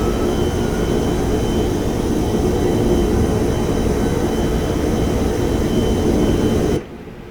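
An airliner at pushback in a flight simulator game, with a loud, constant jet engine roar and whine that cuts off abruptly near the end, leaving a quieter hum.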